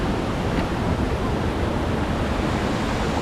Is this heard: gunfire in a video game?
no